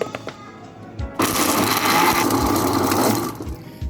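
Kitchen blender whirring falsa (Grewia asiatica) berries into juice: after a few faint clicks, a loud, steady, high-pitched motor whine starts abruptly and runs for about two seconds before easing off.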